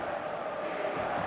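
A video-game stadium crowd at a football match sends up a dense, continuous roar of massed voices that holds steady throughout the short stretch.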